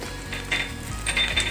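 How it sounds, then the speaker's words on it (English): Ginger garlic paste frying in a pan for prawn biryani gives a steady close hiss, broken by two brief bursts of louder sizzle and scraping as it is stirred. "So let's get it frying."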